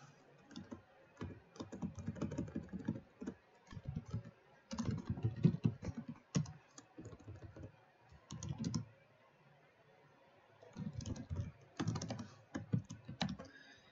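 Bursts of rapid clicky typing on a computer keyboard come in several separate runs, each a few seconds long, split by short quiet pauses, close and clear with no talk.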